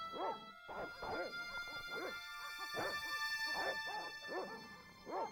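Dogs bark repeatedly in the Broken Sword video game, a run of close, evenly spaced barks and yips over a faint steady background tone.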